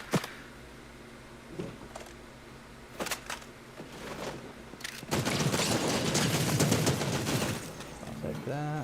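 Fortnite gunfire crackles in scattered single shots, then swells into a dense burst of rapid fire lasting a few seconds, heard as game sound with a voice talking over parts of it.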